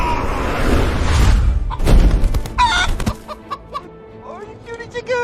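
Chicken sound effect in a board-game promo: after a loud rustling whoosh and a slam, a rooster crows and then clucks in short, close, separate bursts.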